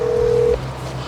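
A phone on speakerphone dialing out, a single steady electronic tone holding for about half a second and then cutting off, leaving a low hum of line noise behind.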